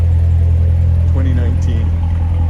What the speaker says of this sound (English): Last of the big motors right there. What a great sound, eh? What a rumble.